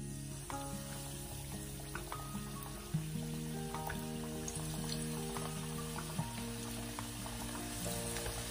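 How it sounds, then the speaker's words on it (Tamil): Chicken wings deep fry in hot oil at medium heat, giving a quiet, steady sizzle and bubbling that runs the whole time with a few soft clinks from a utensil, and no voices. "இப்போ நாங்க இந்த சிக்கனை போட்டு நல்லா டீப் ஃப்ரை"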